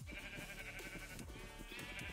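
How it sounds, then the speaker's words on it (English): Sheep bleat repeatedly in a video-game castle yard near a stable, steady and fairly loud against a busy background of game music and ambience. "Heads up. Sheep."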